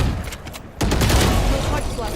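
Gunfire in the tactical shooter Valorant, a sharp burst of shots from about the middle of the clip, loud and dense, with game noise throughout.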